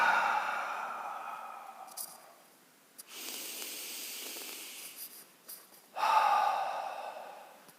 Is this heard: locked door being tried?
no